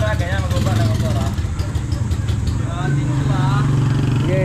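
A motorcycle engine idles steadily and close by as the bike is eased down a slope on a trail ride in Bugallon, Pangasinan, its low, even rumble continuing beneath people talking throughout.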